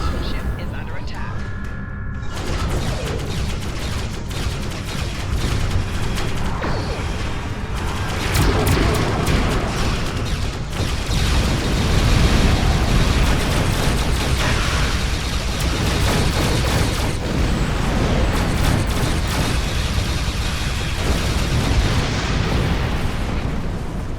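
Starship under attack in the Star Trek Online video game, with heavy booming explosions and rumbling impacts piling up continuously. A loud, dense barrage runs throughout.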